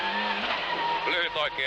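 Onboard Tommy McKinnon's rally car during Rally Indonesia 1996, with a steady engine roar and tyre noise on a narrow red-earth stage, and a commentator talking over it throughout.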